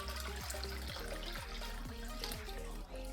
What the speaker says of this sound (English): we're going to pour water into our little dish here